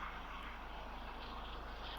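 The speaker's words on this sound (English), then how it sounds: "Oh, it's a helicopter." A low-flying yellow helicopter passes overhead, a steady, moderately loud engine and rotor drone holding constant throughout with no talk.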